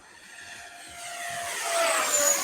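A Flycat V2 electric ducted-fan model jet making a downwind pass outdoors, its high whining rush swelling steadily louder as it approaches, with a sweeping pitch shift and no talking.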